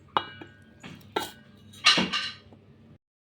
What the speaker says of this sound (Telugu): చూడండి ఫ్రెండ్స్, వీటిని ఇట్లా స్మాష్ చేసుకోవాలి.